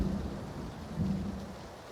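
A thunderstorm rumbles inside PlayerUnknown's Battlegrounds, a steady wash of rain with low thunder swelling twice, fairly faint and distant, no speech.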